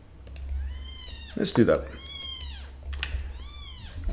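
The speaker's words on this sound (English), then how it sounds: "You can hear the kittens. Just very, very young kittens now behind me." Very young kittens mew repeatedly in the background, thin rising-falling cries coming in several bursts, while someone speaks briefly and something clatters nearby.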